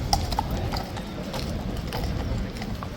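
Horse hooves clip-clop in a few scattered, moderately close strikes over a steady outdoor rumble, with no clear rhythm.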